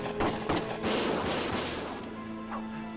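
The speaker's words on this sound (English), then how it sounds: "Gunfire!" Gunfire in the Valkyria Chronicles video game: several sharp bursts of shots crackle close and loud in the first half, then fade into a ringing, echoing battlefield din.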